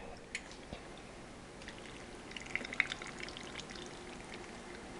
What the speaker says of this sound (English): it's just a little bit of water, and it's trickling down